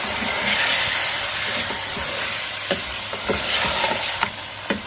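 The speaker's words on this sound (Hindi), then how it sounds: "लहसुन अदरक का पेस्ट डालने के बाद हम अपना ये गोश्त डाल देते हैं इसमें" Bone-in goat meat, about a kilogram, frying in a pan after garlic-ginger paste, with a steady close sizzle and occasional stirring scrapes and clinks throughout.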